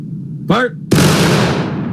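A company of soldiers fires a musket volley in War of Rights: after a brief shouted voice, a sudden loud, close, massed crack bursts out and decays into a long rumbling tail.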